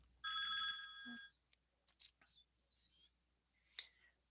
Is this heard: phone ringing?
yes